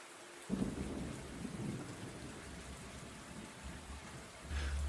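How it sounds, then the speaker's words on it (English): Heavy rain pours steadily while a deep roll of thunder rumbles in the foreground, swelling again near the end. "Thunder rolled."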